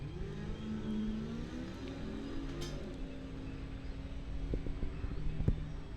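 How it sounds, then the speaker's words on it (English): An 2003 Yamaha RX-1 snowmobile drag racing a Rumblebee pickup truck at a dragway bracket race, heard as a steady, fairly distant engine roar that holds and swells slightly, with no talk over it. "That's a snowmobile."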